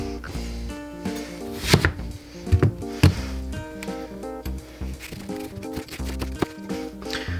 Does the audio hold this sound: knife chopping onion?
yes